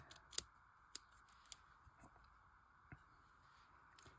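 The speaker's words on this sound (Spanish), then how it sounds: "corto el cuadrito." Scissors snip through a small crocheted yarn square, giving a few faint, sharp clicks spaced irregularly over quiet background noise.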